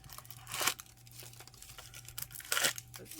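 Plastic packaging of a washi tape order is crinkled and torn open up close, with two louder ripping bursts separated by quieter rustling and handling.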